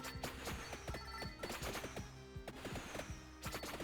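Rapid bursts of projectiles fired in a roguelike video game: dense, quick, snappy shots repeating in clusters over a steady game soundscape, fairly quiet overall.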